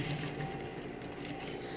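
A sewing machine stitches fabric for a circular skirt, beginning the seam with a backstitch, running as a dense, rapid, continuous mechanical whir that stays loud and close throughout.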